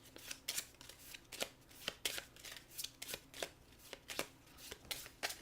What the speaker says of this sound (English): this is where one of these cards get shuffled in